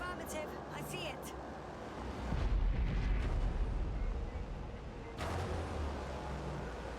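Artillery fires in the game The Invincible: heavy booming blasts with rumbling low ends, one strong burst near the middle and another toward the end over a constant background drone.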